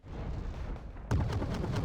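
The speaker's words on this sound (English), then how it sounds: "The artillery coming in there." Artillery shells land in a Wargame: Red Dragon match on the Paddy Field map, a muffled low rumble giving way to a loud, close burst of impacts with crackling booms that keep rolling to the end.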